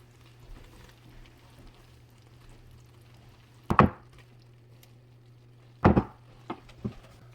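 Enchilada mixture being spooned into a 9x13 baking dish, with a few distinct scraping knocks of a spoon against the dish, two louder ones and some softer taps, over a quiet steady hum.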